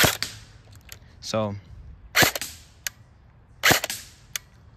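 A stock-trigger gun fires into a block of wood: several sharp, loud single cracks spaced about a second apart, with a short buzzing burst early on and a brief spoken word.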